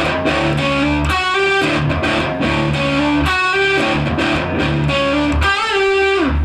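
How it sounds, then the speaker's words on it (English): A loud, distorted electric guitar holds a note at the twelfth fret and bends it up and down several times, the pitch sliding smoothly over a sustained, gritty tone. "what I'm going to ask you to do is just play fret 12 and bend it up and down."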